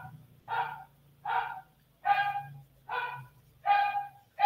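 A small dog recovering from illness barks in a steady series of six sharp, fairly close barks, evenly spaced, with a low hum beneath and no talking.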